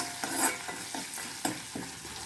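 Cooked dal mashed in a pot, with ghee tempering nearby: repeated soft scraping and pressing strokes in an irregular rhythm over a steady sizzle, close and moderately loud, no voices.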